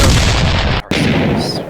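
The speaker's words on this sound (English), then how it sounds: "C4 explosion!" A C4 explosive blast as a sound effect: a loud, dense, booming roar that cuts out abruptly for an instant, then bursts back and rumbles on before tapering, with no voices.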